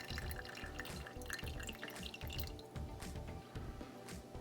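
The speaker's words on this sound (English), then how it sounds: "Got that poured in my 2 mugs there" Yerba mate chai spice latte pouring into two mugs, a steady liquid trickle with dripping and faint glassy clinks, continuous and close throughout.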